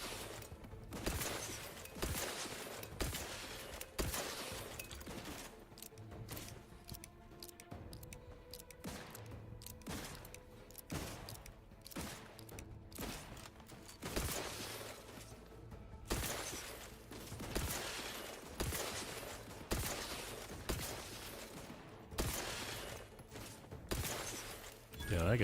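Rifle fire from Outer Worlds 2 on very hard difficulty, a long run of sharp repeated shots spread across the whole stretch, loud and irregular, with game action and voices mixed in underneath.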